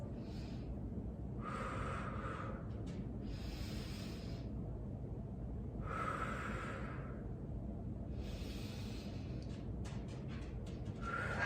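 Long, slow breaths during a seated chair exercise, with broad breathy bursts roughly every two to three seconds over a steady low background hum, fairly faint and with no talking.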